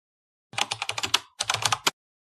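Fast typing on a computer keyboard, two close, crisp bursts of rapid key clicks separated by a brief pause, with silence around them.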